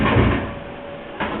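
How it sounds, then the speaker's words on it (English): An indoor door swings shut with a broad, muffled thud, followed by a short settling rattle and a second soft knock just over a second later, with no one speaking. "We'll close this door."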